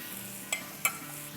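Ground roasted coriander, cumin and garam masala go into hot oil for butter chicken karahi, producing a faint sizzle and two quick scraping clicks of a spoon against the pan.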